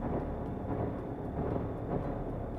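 Deep, rumbling drone of SCP-106 in the video game SCP Secret Lab, a dense low roar that holds steady and loud, pulsing slightly, with no speech.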